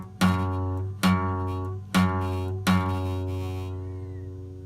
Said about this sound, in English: Or if I'm not close enough to the edge of the fret, it might sound like this.